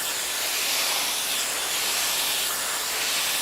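Private Label Armor Heat Protector Spray misted onto hair during styling, a continuous close airy hiss lasting several seconds with no talk.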